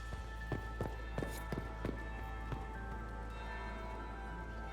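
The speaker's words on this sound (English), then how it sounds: "That's the bell." A bell rings in a ballroom setting in the Dragon Age video game, sounding as a series of sharp, evenly spaced strikes over a steady background hum, with no speech.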